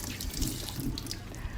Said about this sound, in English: making sure that we rinse them really good in running water